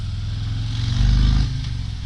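Harley-Davidson Fat Boy Special motorcycle, 2022 model, its V-twin engine thumping close by and swelling briefly in a short rev before settling back to a lumpy idle.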